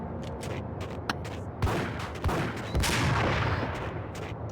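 Gunfire from the video game Max Payne crackles in rapid bursts and sharp shots, fairly close and moderately loud, with no talking over it.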